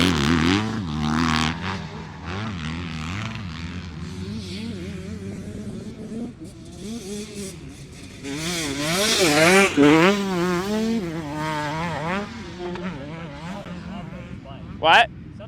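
Dirt bike engines rev and rise in pitch as riders work through a training section at a practice facility, wavering up and down under steady talk, with a sharp burst near the end.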